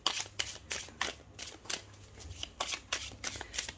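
Tarot cards are shuffled by hand in quick repeated riffles, about ten crisp papery bursts in a steady rhythm, close up and alone without talk.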